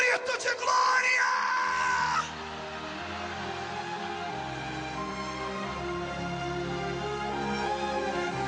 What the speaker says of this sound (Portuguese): Quem crê nisso, dê um grito de glória.